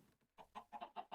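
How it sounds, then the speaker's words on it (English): A Minecraft chicken clucking inside a house, a quick run of short, faint clucks in a steady rhythm, alone without talk. "The noise that I'm hearing, that chicken, isn't coming from out there."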